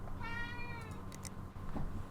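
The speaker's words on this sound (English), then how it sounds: "What are you meowing at me for?" A cat gives one drawn-out, rising-and-falling meow at the start, followed by a few faint soft sounds, heard fairly quietly and alone without talk.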